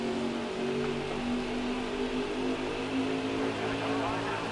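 A NASCAR stock car in the racing game NASCAR Heat 4 drones continuously at high revs, a steady engine whine with faint shifting overtones, loud and unbroken throughout.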